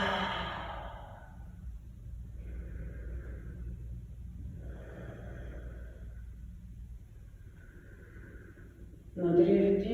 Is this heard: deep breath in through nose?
yes